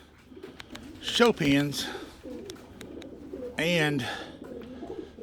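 Pigeons in a pigeon loft on a small farm give a few soft, close, rolling coos, with a person talking between and over the calls.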